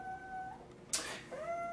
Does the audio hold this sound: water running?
no